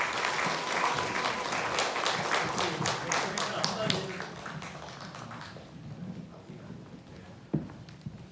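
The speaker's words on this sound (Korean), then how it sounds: "박수로 청해 듣겠습니다." Audience applause welcoming the Bomnal arts troupe's performance at a first-anniversary memorial event, dense clapping that fills the opening seconds and then thins and fades, with a sharp knock near the end.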